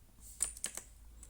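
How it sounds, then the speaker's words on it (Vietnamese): A few quiet clicks from typing on a Dareu EK880 mechanical keyboard with brown switches, three or four distinct keystrokes in quick succession, close but soft. "Bàn phím nhấn sinh rất là nhẹ"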